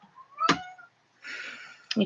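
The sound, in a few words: cat meowing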